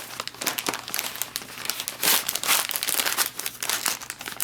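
An MRE flameless ration heater envelope, puffing up as it heats, crinkles and rustles steadily up close as it is handled and pushed into a box, with no talking.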